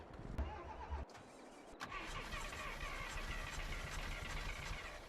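An old jalopy vehicle in Farming Simulator 22 cranks and starts, then settles into a loud, steady engine rumble that runs continuously to the end.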